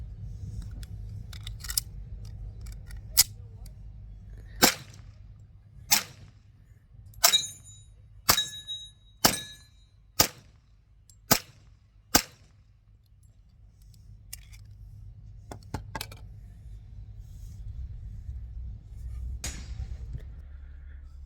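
Gunshots at a shooting range fired with Sellier & Bellot ammunition, about ten sharp cracks spaced a second or so apart in the middle of the stretch, with a low steady rumble of outdoor background throughout.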